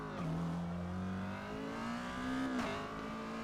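An Exocet race car in Forza Motorsport at Yas Marina, its engine droning steadily and rising in pitch as it accelerates, with a brief gear-change dip and squeal before climbing again, loud and close throughout.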